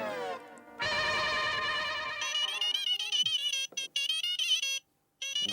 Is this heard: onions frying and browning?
no